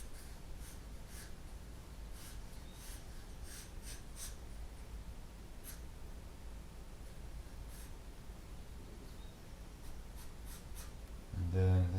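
Pencil strokes on paper while drawing a face in a Loomis-method sketch, a steady soft scratching texture with intermittent brighter stroke bursts, a low thump near the end.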